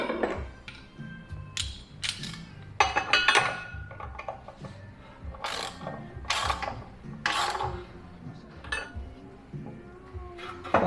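A ratchet wrench fitted with a 30 mm socket works on a flat-engine part as a close series of metallic clicks and clanks, irregular bursts with short pauses between them.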